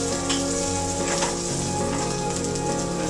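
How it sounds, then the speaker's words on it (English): Lollipops sear on a hot surface at 375 degrees with a loud, continuous close sizzle, dense and even, with an underlying hum and no talking. "Now we're finishing searing up the lollipops."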